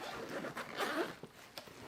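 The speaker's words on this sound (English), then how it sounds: "this bottom zips open" The zipper on the bottom of a fishing backpack is zipped open, a short close rasping pull over faint background rustle.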